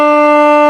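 Steady sustained alto saxophone note B, played with only the top key, clear and reedy, loud and close, held briefly and alone without speech.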